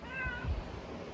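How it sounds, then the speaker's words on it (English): A cat gives a single short, close meow that drops away quickly, with a little low handling noise around it and no speech. "I've adopted a cat."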